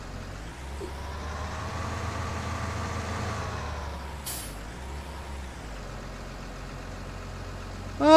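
A bugged tractor engine in Farming Simulator 19 runs as a low, steady drone with slight shifts in pitch, a sharp hiss of air release near the middle, and a louder burst at the very end; no talking.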